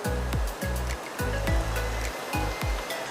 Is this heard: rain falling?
yes